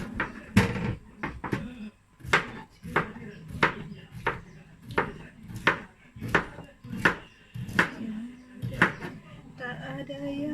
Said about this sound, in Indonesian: Saya potong gini.